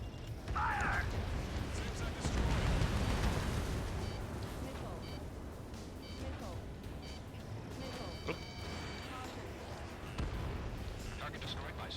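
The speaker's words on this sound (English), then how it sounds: "Prepare the first volley. Ready. Fire!" Artillery volley fired during an Ace Combat 7 mission, a heavy rolling boom and rumble that swells early and then trails off into sustained battle noise, with a voice talking over it.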